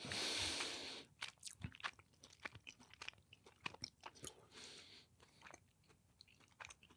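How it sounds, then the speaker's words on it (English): Someone chewing sour food right up against the microphone, with wet, crunchy bites and smacking in an uneven rhythm after a brief noisy start. No talking. "I like can't stand your chewing on your podcast"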